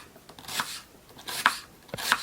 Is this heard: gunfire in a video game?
no